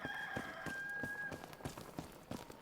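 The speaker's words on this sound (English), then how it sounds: "there's the official cock-a-doodle-doo." A rooster crows in the video game Enshrouded, a drawn-out tonal call over a run of soft rhythmic thuds like footsteps, moderately loud and without talk.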